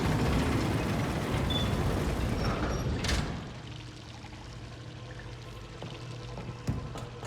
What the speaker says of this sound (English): I'll lower the water level, and then we go like this, it'll lower it even more.